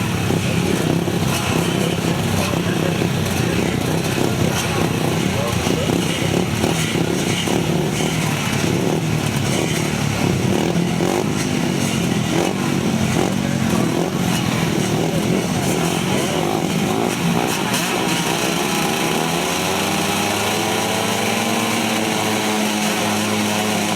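Grasstrack racing motorcycles roar together toward the first turn, a loud, sustained, rasping engine howl from a close pack that later thins into a rising, revving whine as the bikes pull away.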